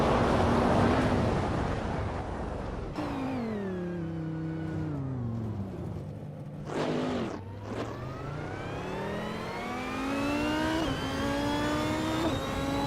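Race cars in a racing video game rev and accelerate continuously, engine tones sweeping down then climbing steeply, with a brief whooshing pass midway; loud and steady throughout, no talking.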